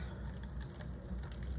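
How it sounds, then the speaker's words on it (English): Warm water pours softly into a container for mixing paper mache clay, a faint steady trickle with light splashing throughout. "So I have some warm water here, and I'm going to go ahead and fill up"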